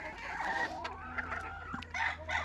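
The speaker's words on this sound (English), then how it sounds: "Down to my laying flock." A laying flock of hens clucks and murmurs nearby, with a single rooster among them; overlapping busy calls and short squawks continue at moderate loudness without speech.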